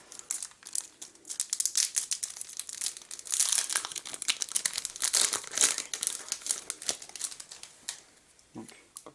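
Trading card booster packs being torn open and their foil wrappers crinkled, with a dense run of sharp rustling, crackling and tearing close up, while a person talks intermittently.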